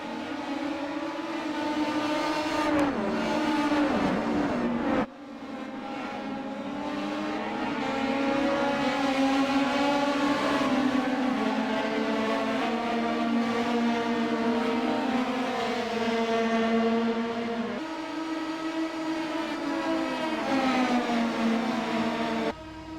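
Star Mazda race cars screaming around Interlagos in the iRacing simulator, high revving engine notes rising and falling through gear changes, a loud sustained whine from start to finish with a brief drop near the middle.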